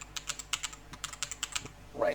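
Quick keystrokes on a computer keyboard while coding a C# console program, a rapid irregular run of close, crisp clicks, with a brief voice starting at the end.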